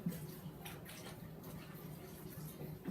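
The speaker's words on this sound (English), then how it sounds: "So I'm going to go ahead and wash this really quick like." Dishes being washed by hand in a sink of dishwater during a home baking session, with steady faint sloshing and dripping water, a few soft splashes, close and quiet, with no talking.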